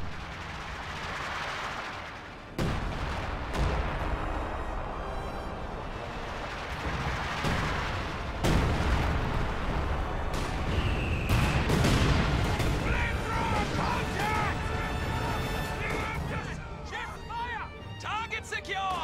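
ISU artillery firing in a strategy video game: heavy booming shots and rumbling explosions recur under continuous battle noise, with scattered smaller gunfire and a commentator talking throughout.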